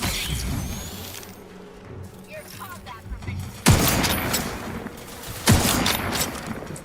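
Gunfire in The Outer Worlds 2 lands as a couple of sudden loud shots a few seconds apart over a busy game soundscape, with voices speaking around them.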